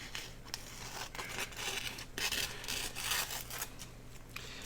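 Scissors snipping through washi tape during a collage craft session, a few close, soft crisp cuts and rustles against a low steady hum.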